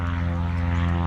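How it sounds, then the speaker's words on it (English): A propeller plane takes off near a golf course in Brevard, its engine a loud, steady droning hum with a strong low pulsing tone throughout. "got another plane taking off."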